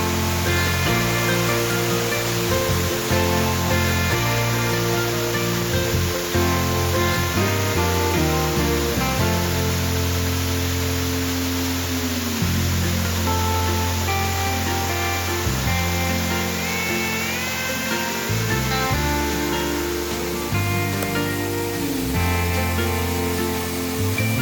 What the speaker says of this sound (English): I believe I hear a waterfall back here